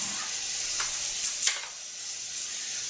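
Onions sizzle softly in a pan, a steady faint frying hiss with a couple of brief clicks and no voices.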